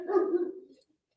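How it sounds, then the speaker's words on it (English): Milo, a pet dog, lets out a single short, muffled bark that fades quickly, fairly quiet and heard alone with no talking. "we had to get a few barks in from Milo"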